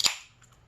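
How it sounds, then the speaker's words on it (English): A single quick pop and hiss of a cold drink can being cracked open in a garage, close and crisp, fading into quiet. "first things first, cracking a cold one for the boys"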